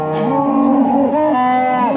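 A limping dairy cow on a farm gives one long, loud, close moo that wavers in pitch and holds for about two seconds, with no talk over it.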